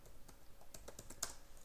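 Quick, light keystrokes on a computer keyboard, a faint irregular patter of about a dozen clicks close by with no talk.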